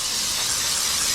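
A handheld steamer used to remove car window tint hisses steadily and loudly up close, a continuous broadband rush of steam with no break.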